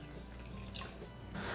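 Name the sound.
water poured over peeled potatoes in pot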